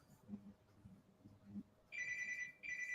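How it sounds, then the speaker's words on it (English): A telephone rings in two electronic bursts, the second following closely after the first, sounding clear and moderately loud after a short stretch of quiet room noise with faint murmuring. "phone is ringing"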